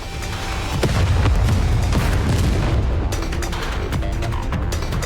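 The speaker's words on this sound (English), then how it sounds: "the square is filled with sounds of gunshots and explosions" Dense, continuous rumbling booms and crackling bursts of gunfire and explosions in the game Goddess of Victory: Nikke roar loudly without any voices.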